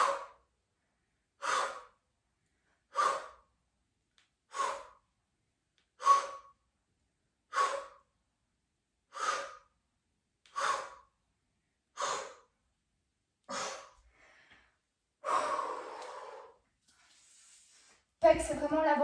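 Heavy exhalations during a push-up set in an upper-body workout, about a dozen sharp, evenly spaced breaths roughly every second and a half, close and fairly loud, then a few ragged breaths and a voice starting at the end.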